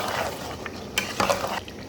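A spoon scrapes and clacks in a pan as capsicum and green chillies are stirred into a potato curry, giving a few sharp knocks over a soft, continuous sizzle.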